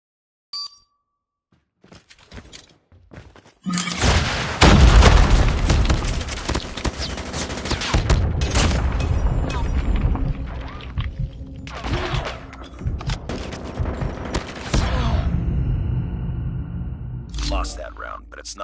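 Rapid video game gunfire and explosions during a multiplayer gunfight round, a loud continuous barrage of shots and booms that runs almost unbroken after a few quiet seconds, with game music or voices mixed underneath.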